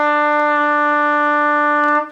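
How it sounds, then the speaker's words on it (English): A lone trumpet holds the note E, a clear, even tone lasting about two seconds that ends with a short fade. "Next note is E, sounds like this."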